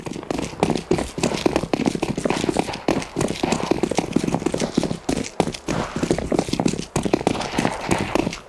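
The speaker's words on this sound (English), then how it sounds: "Like nothing but footsteps" Steady run of quick, clattering footsteps in a video game, loud and near with a hoof-like rhythm, brief gaps now and then, no voices.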